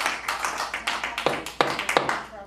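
Scattered clapping from an audience at a town commission meeting in a hall, several sharp irregular claps rather than sustained applause, fairly close.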